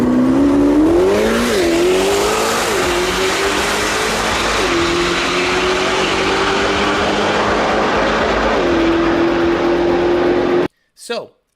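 A Tesla electric car drag racing a twin-turbo Corvette ZR1 on pump gas, with a loud, steady engine roar whose pitch climbs through several gear shifts before cutting off abruptly.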